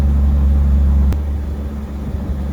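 Zenos E10R sports car engine droning steadily while driving, a loud low rumble heard from inside, easing slightly after a brief click partway through.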